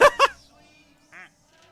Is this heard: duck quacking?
yes